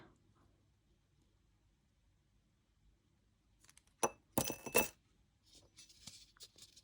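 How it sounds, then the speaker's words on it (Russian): A ball set into a drinking glass while a silk-covered ball is being glued, a few sharp glassy clinks and knocks close by after a stretch of near silence, with no voices. "Укладываю удобно в стакан, наношу клей."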